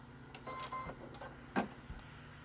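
An embroidery machine stitches a bow placement outline in a 5x7 hoop: faint, close mechanical whirring and tapping with a few sharper clicks, steady and quiet throughout.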